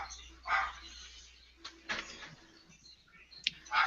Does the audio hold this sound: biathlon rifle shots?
no